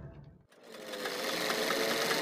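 A sewing machine stitches along a marked line on fabric, starting after a brief pause and running as a loud, steady, continuous whir to the end.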